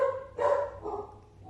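A puppy gives a couple of close, loud yips and barks, then a softer whimpering tail-off.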